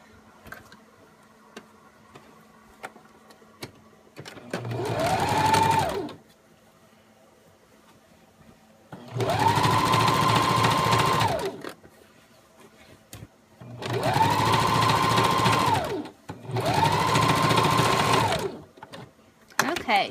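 Sewing machine stitching a peasant style dress, running in four separate bursts of fast mechanical whirring that rise in speed, each lasting one to three seconds, with quiet pauses and small clicks between them.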